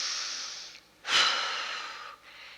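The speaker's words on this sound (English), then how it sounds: "take a deep breath" A person demonstrating deep breathing in through the nose: a long steady airy inhale, a brief pause, then a stronger rushing breath that trails off slowly, close and clear with no talking.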